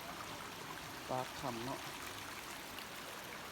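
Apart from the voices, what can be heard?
water flowing out below a cave mouth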